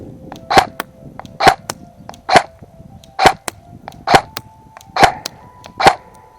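A Double Eagle M904G Falcon Fire airsoft gun fires seven sharp, snappy shots at a steady pace of roughly one per second, each a crisp close crack with a brief metallic ring.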